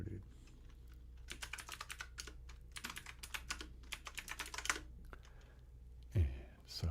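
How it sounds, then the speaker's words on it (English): Rapid bursts of computer keyboard typing, close and fairly loud, with short pauses between runs of keystrokes, followed by a couple of heavier thumps near the end. "I don't think I can type that fast with this keyboard at all"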